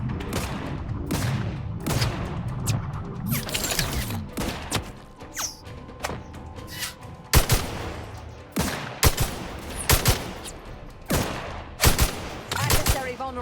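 Gunfire in The Outer Worlds 2 comes as bursts of sharp, loud shots, some in rapid volleys and some single cracks, spread across the whole stretch, with occasional voices between them.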